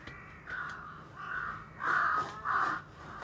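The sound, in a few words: crow cawing in the Demon Slayer anime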